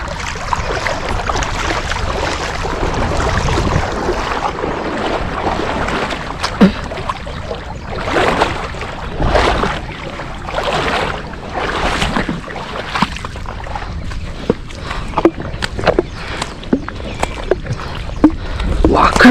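A fishing boat pushes through open water, a steady wash of hull and splashing noise with repeated slapping bursts, loud and close, while voices talk over it.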